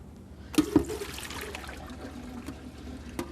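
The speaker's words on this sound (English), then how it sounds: "what we're going to do now is drain the water off them" Water trickles and splashes as it is poured off sliced vegetables in a home kitchen, a faint, continuous draining sound with a couple of brief clinks near the start.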